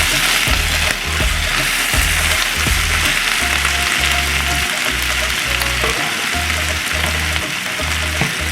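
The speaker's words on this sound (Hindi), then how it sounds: "कीमा जो है वो भून चुका है मसाले में अच्छी तरह" Minced meat (keema) sizzles in spices in a pan with a steady, loud crackling fry, broken by a regular rhythm of stirring scrapes and soft knocks.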